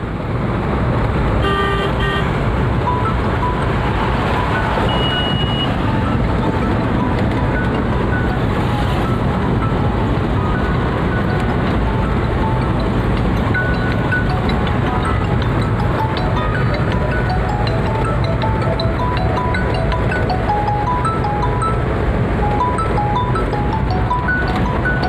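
A car carrying its occupants heads along a road toward a brick kiln in Polsanda, its engine and tyre roar a steady, loud drone from inside, with a few faint horn toots in the distance.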